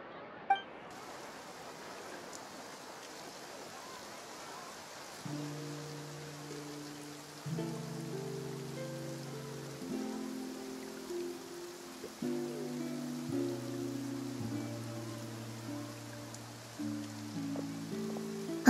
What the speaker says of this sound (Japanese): 雨が降ってきたみたい。